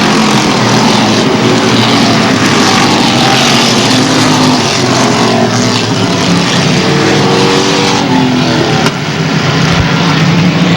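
A pack of race cars roars off turn four at the start of a 1999 Airborne short-track event, many engines snarling together in a loud, sustained, dense wall of sound with no voices.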